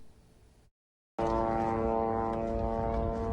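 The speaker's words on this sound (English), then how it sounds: "The sound of Israeli drones is ever constant in Gaza" A steady droning hum of Israeli military drones hangs over Gaza, starting abruptly after a brief silence and holding constant and fairly loud.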